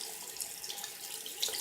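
Water runs steadily from a tap into a sink as a makeup brush is washed with soap, a close, continuous hiss with no talking.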